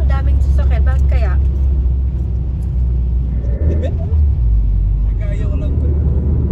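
Car traffic on the SLEX expressway heard from inside a vehicle, a loud continuous low road rumble with vehicle noise throughout and voices talking over it.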